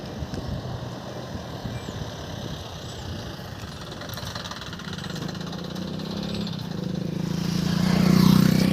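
Vehicle HA 9714 with its engine idling: a steady low chugging rumble that grows louder and heavier toward the end, no voices.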